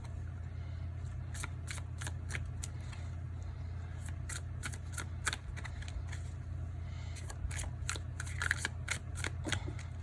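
Tarot cards being shuffled by hand, a run of crisp riffling bursts in two clusters separated by a short pause, close and fairly soft over a steady low hum, with no talking.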